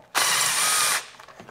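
A tool spins loose a 10mm bolt on the engine of a 2010–14 Toyota FJ Cruiser during spark plug work: one loud, harsh mechanical burst of just under a second, close up, then quiet clicks.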